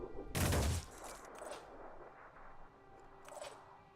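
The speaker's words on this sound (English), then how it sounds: "Our turret found a target." An automated turret firing at a target in the game Terror From The Void, one loud close blast followed by fainter scattered reports and a distant pop over a low hum.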